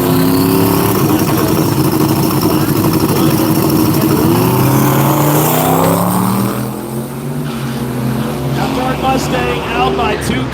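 Drag race cars, including an 03 Chevy S10 Turbo LS, roar loudly down the track, their engines climbing in pitch as they accelerate with a dense, continuous mechanical din.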